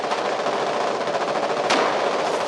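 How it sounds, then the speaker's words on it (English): Several machine guns trade sustained fire from both sides across a road in the war game Foxhole, a dense, continuous rattle of rapid shots with one sharper burst standing out near the end. "Machine gun fire exchange from both sides, maybe 2-3 machine guns per side, right across this road"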